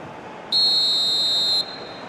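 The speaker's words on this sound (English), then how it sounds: "And the whistle's gone, presumably for offside." A referee's whistle in the eFootball PES 21 football video game blows one steady, shrill tone lasting about a second, loud over the constant low crowd murmur of the stadium.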